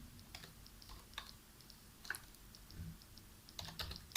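Typing on a computer keyboard while working in AutoCAD: irregular bursts of soft key clicks, close and quiet, with short pauses between runs and no speech.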